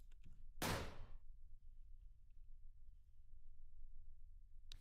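A single loud, sharp slam of a door in the Paranormal P.I. horror game, one broadband impact followed by a quiet, low ambient rumble.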